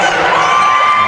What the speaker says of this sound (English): the Rollins fans who have made the trip are very excited and boisterous